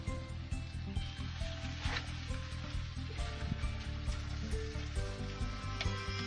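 Eggs frying in a hot pan during village-style toasting, a steady dense sizzle and crackle running throughout, fairly loud and close, with occasional light clinks and stirring sounds and no talking.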